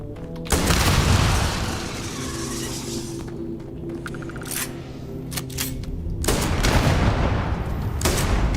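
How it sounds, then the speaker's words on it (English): Exploding shotgun in Starfield fired several times, each shot a loud booming blast with a sharp crack and rumbling tail, some bursts close together, with game ambience between them. "don't run in front of my exploding shotgun then"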